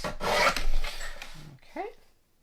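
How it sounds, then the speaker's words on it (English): A Tim Holtz paper trimmer slices through a card in a craft setting, giving a close, rasping scrape that runs for about a second and a half, then a brief faint rustle before it fades. "Get my Tim Holtz trimmer here."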